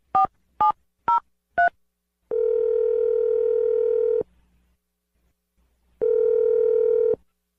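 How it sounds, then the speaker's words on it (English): A telephone call being placed: four short, evenly spaced dialing tones in quick succession, then two long steady ringback tones separated by a pause of near silence, clear and fairly loud with no talking. "going to dial the number"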